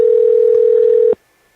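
A steady telephone dial tone hums loud and close for about a second before cutting off abruptly, leaving near silence.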